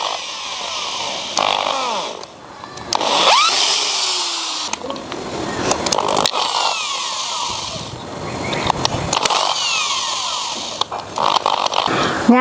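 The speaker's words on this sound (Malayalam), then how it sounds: "ഇപ്പം നമ്മൾ ഡ്രില്ലർ ഉപയോഗിച്ചാണ് കേട്ടോ സ്ക്രൂ ചെയ്യാൻ പോകണം" A power drill drives screws into a wooden Christmas crib frame, its motor whining in repeated bursts that rise and fall in pitch as each screw bites, loud and close with brief pauses between runs.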